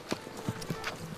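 A horse's hooves clip-clop in an uneven series of soft steps on a mountain trail in Armenia, moderately near, with faint ambient noise underneath.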